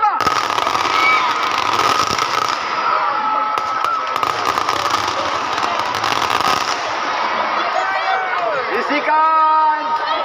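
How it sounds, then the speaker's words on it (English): A ceremonial volley of rifle fire at an outdoor event makes loud, crackling bangs that echo over a crowd, with people shouting commands and talking throughout. "They are shooting again."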